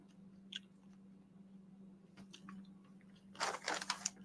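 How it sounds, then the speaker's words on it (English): Someone munches a mountain mix trail snack close to the microphone, with soft chews at first, then a burst of loud, crisp crunching near the end over a faint steady hum. No one speaks. "see me munching down on this good old mountain mix"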